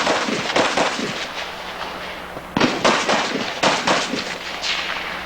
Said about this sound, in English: Shooting targets in the corner.